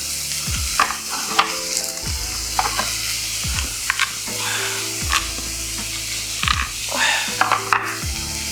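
Onglet steak searing in a hot pan with unpeeled garlic cloves: a steady loud sizzle with repeated sharp crackles and spatters, interrupted by stirring and pan scrapes.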